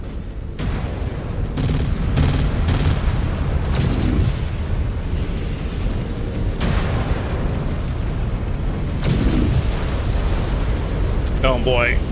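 Missile explosions boom and burst repeatedly in MechWarrior 5: Wolves of Tukayyid combat, loud dense blasts and rumble layered with game voice callouts, ending in a rising warning tone.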